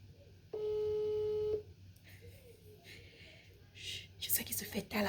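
A single steady telephone ringback tone sounds for about a second during an outgoing call, loud and alone, followed by quiet room noise and faint breathy voices.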